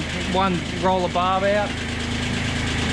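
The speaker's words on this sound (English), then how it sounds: "Tractor's coming in handy." A tractor engine idles with a steady, even low chug close by while someone talks over it.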